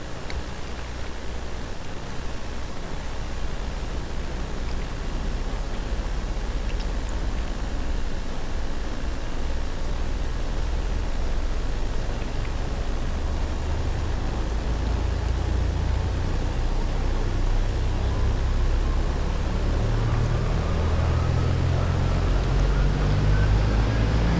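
In the DCS flight simulator, a turboprop aircraft engine spools up from a hissing start into a steady, loud broadband roar, its low rumble building gradually over about twenty seconds with no talk over it.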